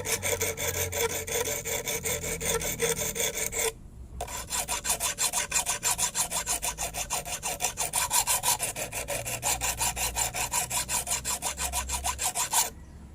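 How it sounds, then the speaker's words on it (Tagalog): A metal blade of a coconut grater is rasped back and forth with a file in steady, rapid strokes, loud and close, pausing briefly once before the rhythmic scraping resumes. "Asain natin ang talim."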